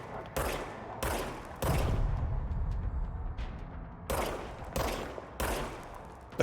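Gunfire from a weapon in the video game Control, a string of sharp, loud shots in separate bursts with gaps between, close and punchy, with a heavier rumbling volley in the middle and no talk over it.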